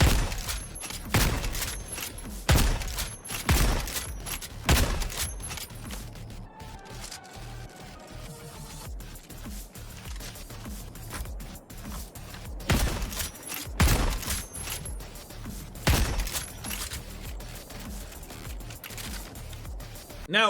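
Constitution bolt-action rifle fire in Helldivers 2, loud sharp cracks repeating in irregular bursts among explosions and battle clatter, with a lull in the middle before more shots.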